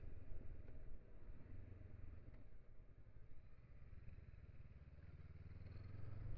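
A Honda NX500 motorcycle on small country roads, its engine a low continuous rumble with wind noise, steady and slightly swelling toward the end, no talking.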